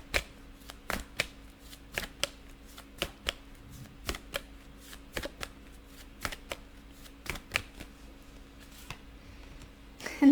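Tarot cards shuffled and drawn by hand, a steady run of crisp riffling snaps and flicks at close range, with no voices.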